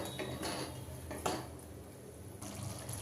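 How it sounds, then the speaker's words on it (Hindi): Spices being stirred and roasted in a pan over low-medium heat for a raw banana dish, with soft repeated scraping of a spoon against the metal pan over a steady low sizzle, close and without talk. "मसाले को चलाते हुए 1 मिनट तक भून लेते हैं लो मीडियम पे"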